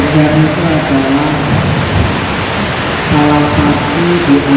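Heavy rain pours in a steady, dense wash, loud and continuous, during a monthly religious study gathering, with faint tonal hums drifting through.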